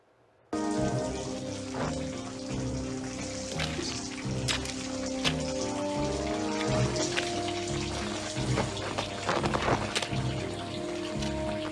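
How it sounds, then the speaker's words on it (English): Water drips and splashes in a film scene, with scattered close drops and trickles over a steady bed of sustained musical tones, the dripping rising in density toward the end. "this is the way the water's dripping down"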